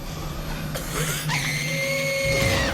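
A girl in a film screams in fright after discovering a killing, a sustained high shriek rising over a busy background of noise and music, loud and close.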